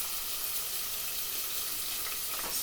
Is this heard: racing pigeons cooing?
no